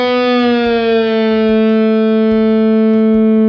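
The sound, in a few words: guitar string bent up a whole step and released, 7th fret D string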